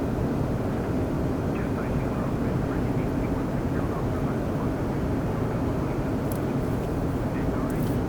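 Embraer E195 airliner engine in a flight simulator game, a steady dense roar that stays constant throughout, with faint talking underneath.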